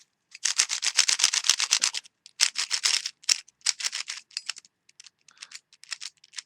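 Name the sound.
dry, unlubricated stock speed cube being turned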